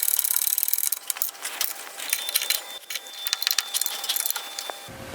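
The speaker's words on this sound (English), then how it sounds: "we go ahead and lock down the 4 bolts here that are holding on the carrier" Bolts being tightened down on the air conditioning compressor carrier of a Porsche 3.2 Carrera, a dense run of close metallic ratcheting clicks and tool rattles that continues almost without pause, then stops abruptly near the end.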